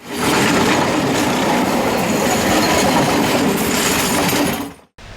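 A suburban commuter train passes close by with a loud, steady rumble and rail clatter that runs almost the whole time, then cuts off abruptly near the end. No one speaks.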